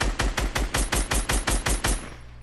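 Rapid gunfire in a video game, about a dozen evenly spaced sharp shots in a quick burst, loud and close, then stopping abruptly and leaving a short fading tail.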